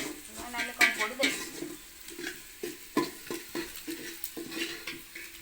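Onions frying in a pan with a soft sizzle, punctuated by the scrape and clink of a spoon stirring against the metal, with talk in the background.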